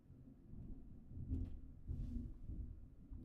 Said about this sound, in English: There's a thunderstorm rolling through.